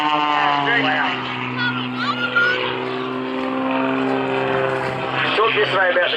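An MXS aerobatic plane passes low and fast at a powerboat event. Its loud propeller engine drones steadily and the pitch shifts as it goes by, under near continuous commentary.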